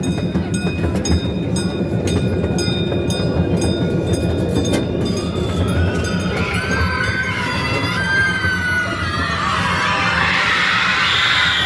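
Gage Park miniature train in Topeka rolling along its rails, a loud steady rumble with rhythmic clicking at first, then squealing wheel tones and rising noise as it continues.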